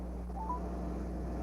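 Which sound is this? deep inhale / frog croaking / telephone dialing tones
telephone dialing tones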